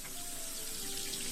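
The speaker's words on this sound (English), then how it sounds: "Running water?" A tap runs steadily in a cabin sink aboard the Titanic, a soft continuous hiss of flowing water with no one speaking.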